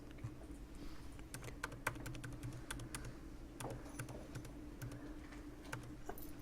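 Fingers press keys on a computer keyboard, including the tab key, in a quiet room: an irregular run of crisp clicks and taps over low background hum, with no voice.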